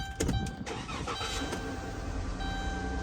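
Engine of a 2016 Dodge Grand Caravan with 108,000 miles and a rough idle misfire, heard up close as a steady running rumble after a brief clunky start, no voices.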